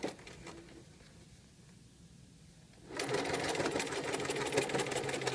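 A sewing machine stitches a zigzag blind hem, starting softly and then running at a louder, steady rapid rattle for the rest of the clip, close and continuous.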